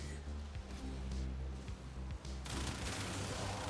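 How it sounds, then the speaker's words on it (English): Crew ship reactor detonating in the video game Warframe, a dense rumbling blast that breaks into a loud, bright burst of noise partway through, layered over constant game music and combat effects. "Crew ship reactor has detonated."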